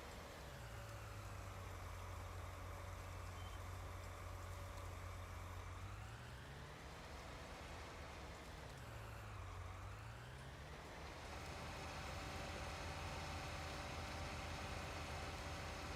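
A tractor engine in Farming Simulator 19 drones steadily at close range, its pitch rising and falling twice as it shifts load, with no talk over it.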